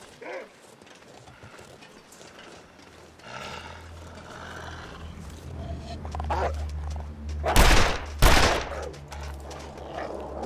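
Two bow shots in the video game The Long Dark, a pair of sharp, loud releases in quick succession that follow a stretch of low rumbling ambience.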